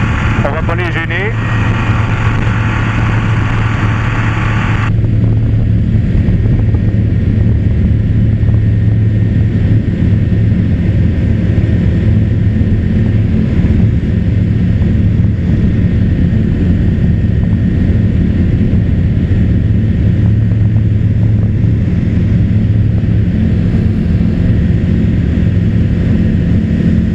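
A small airplane takes off from runway 36, its engine drone steady and loud throughout, with a sustained low hum from the cockpit and people talking over it.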